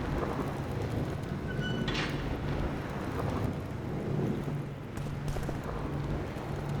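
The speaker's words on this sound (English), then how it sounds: "Striking lightning bolt." Thunder after a lightning strike in The Witcher 2, a continuous low rumbling roar with rain-like hiss throughout, rising in a few broad swells before easing.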